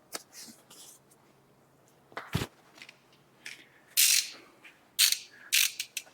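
Ratchet wrench tightening the center link at the idler arm of a Chevy GMC 2500 truck, a few sharp clicking bursts with pauses between, close and fairly quiet with no talking.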